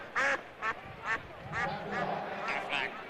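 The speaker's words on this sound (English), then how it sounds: "Cue the duck." The Aflac duck quacking during a televised Miami versus Syracuse college football trivia segment, several sharp nasal quacks in quick succession, with voices mixed in.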